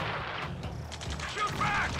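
Rapid bursts of gunfire crackle in the Ace Combat 7 video game, layered with mechanical clatter and a shouted voice amid a busy battle mix.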